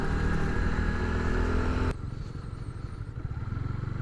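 A motorcycle held in first gear labours up an uphill asphalt road in the hills around Wonocolo's traditional crude oil wells, a loud steady engine drone that suddenly drops to a quieter, rougher running note partway through.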